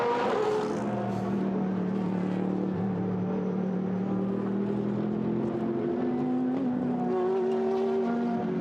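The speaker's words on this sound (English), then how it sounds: "Out of turn 1 goes the Lamborghini." GT race cars in a Blancpain GT Sports Club race at Paul Ricard, led by a Lamborghini accelerating out of turn 1, whose engines drone and rise in pitch through upshifts, sustained and fairly distant.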